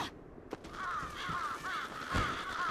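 Crows cawing in Bloodstained: Ritual of the Night, a run of hoarse, repeated caws starting just after a soft thump, moderately loud and steady with no talk.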